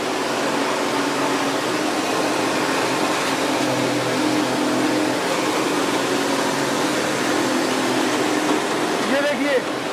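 A commercial 6N70 combined rice mill destoner runs with nuts and bolts mixed into the grain, giving a loud, steady mechanical roar with a constant hiss and rattle throughout.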